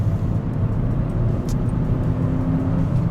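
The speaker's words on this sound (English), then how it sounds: "we're heading into a 80k zone here, so we'll floor it" A front-wheel-drive daily car accelerates at full throttle onto an 80 km/h road, a steady loud low engine drone heard from inside the cabin with no talk.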